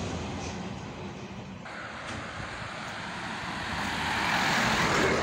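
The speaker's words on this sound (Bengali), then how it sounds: "দেখতে পাচ্ছেন হাইওয়ে রাস্তা, প্রচণ্ড ব্যস্ত একটি জায়গা।" Steady, continuous roar of heavy traffic on a busy highway running beside roadside land, trucks and cars passing close by, with the wash of sound swelling louder toward the end and no voices.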